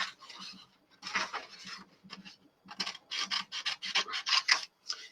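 Scissors cut through card paper in a series of close, crisp rasping snips that come in irregular bursts with short pauses between them.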